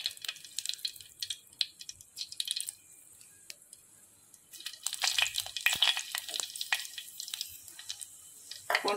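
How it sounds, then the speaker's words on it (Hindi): Panch phoron spices frying in hot mustard oil, crackling and sizzling in bursts with a quieter lull midway, then louder spitting pops toward the end. "सोरिष तेल तापरे मु एटा ताती गला परे टिके फुटण पकई देबा पंच फुटण"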